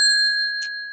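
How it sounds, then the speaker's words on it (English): A bell struck once gives a bright, clear ding that rings on steadily and slowly fades, with a short burst partway through and the start of another strike at the very end. "whenever somebody says trade secret, I hit the bell"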